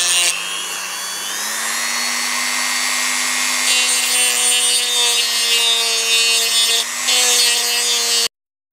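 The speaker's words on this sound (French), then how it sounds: "je vais me servir d'une Dremel, ça va me faire gagner du temps, pour poncer cette bague en laiton" A Dremel rotary tool sanding a brass ring, a steady high-pitched motor whine with a gritty abrasive hiss that rises slightly in pitch, then cuts off abruptly, close and loud with no talking.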